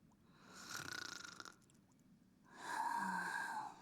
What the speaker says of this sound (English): And she's snoring.